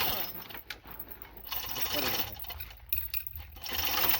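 A chain pulley hoist hauls a long submersible pump motor from a farm borewell, producing steady close metallic chain rattling and ratcheting that pauses briefly between pulls, with someone talking intermittently over it.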